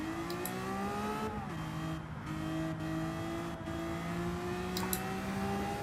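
Lamborghini VGT race car engine in Gran Turismo 7 at Interlagos, a loud sustained high-revving drone with pitch dips at gear shifts and brief tire noise, no voices.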